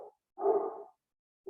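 A single muffled bark rises from a dog downstairs, one fuller burst between the clipped edges of others, fairly distant and alone without speech.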